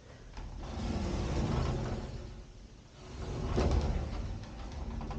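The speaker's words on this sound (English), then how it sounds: "The closet doors on this one seem a bit janky." Crooked, janky sliding closet doors rolling along their track in a house, two drawn-out rumbling slides with a lull between, moderately close and without talk.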